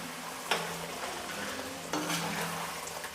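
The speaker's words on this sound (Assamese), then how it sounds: "এতিয়া মই এড কৰিম মাংসখিনি ইয়াত আৰু গেছটো অকণমান ল' কৰি মই লৰাই দিম" Goat meat fries in a pan with roasted spices, a continuous sizzle broken by two sharp scrapes of stirring, close and steady with no talk.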